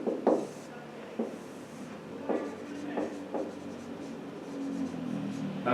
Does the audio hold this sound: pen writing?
yes